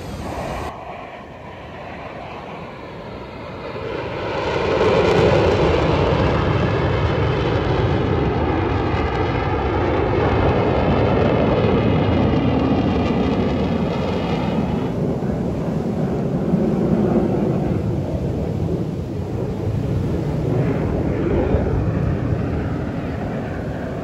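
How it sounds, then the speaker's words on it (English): Airplanes roar past at a beach air show, a loud jet rumble building over several seconds and sweeping by with rising and falling tones before easing into a sustained distant drone. "This air show is absolutely amazing"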